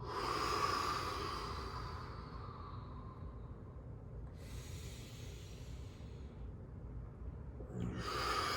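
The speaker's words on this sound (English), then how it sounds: "Deeper breath out." A long, deep exhale during a yoga breathing exercise, a soft breathy hiss that swells loud at the start and trails off over several seconds, with a fresh breath beginning near the end.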